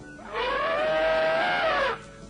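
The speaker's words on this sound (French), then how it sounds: "tous ces gros éléphants qui poussaient des cris de trompette en faisant trembler le sol sous leurs pieds" An elephant trumpets as a sound effect in a children's story recording: one sustained, brassy, wavering call lasting over a second and a half, loud and close, with no talk over it.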